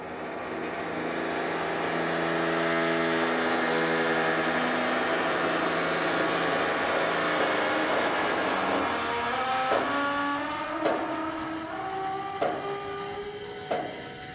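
A contractor-grade Appalachian dump trailer bed lowers under gravity while a remote button is held, giving a steady loud mechanical whine with falling tones that ends in a few distinct clunks near the finish.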